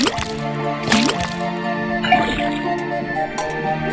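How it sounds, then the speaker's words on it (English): Liquid pours and drips from a faucet into a cauldron in the detective game Detective Grimoire, with several short wet splashes and gurgles over a steady synth music bed. "put the sample of liquid into the cauldron, then tap the faucet"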